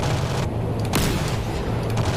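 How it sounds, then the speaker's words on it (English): A 105mm howitzer fires from a C-130 Hercules gunship in the DCS World flight simulator, one sharp, heavy boom cutting through a constant engine drone. "Wow, my howitzers bullets take forever to fire."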